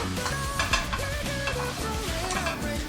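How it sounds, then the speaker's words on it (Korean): Marshmallows melting in butter in a pan, stirred with a utensil that scrapes and clinks against the metal, a soft sizzle underneath, close and steady, while music plays in the background. "버터에다 마시멜로를 녹이는 거잖아"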